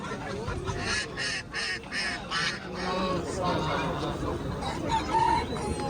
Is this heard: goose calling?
yes